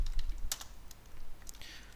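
Code is typed on a computer keyboard in a few quick, scattered clicks. The keystrokes are close, crisp and fairly faint over a low background hum.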